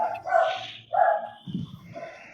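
A dog barks over a caller's telephone line, giving a few close, muffled woofs and yips with a thin, phone-filtered tone and no talking.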